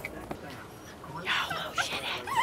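Miniature pinscher puppies whimper and yip in a few short, high whines that rise toward the end, heard close over a low room background.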